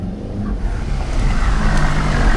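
A manual-transmission 2018 VW Alltrack accelerates up an icy hill at high elevation, a steady, loud, low engine drone holding throughout with no talk over it.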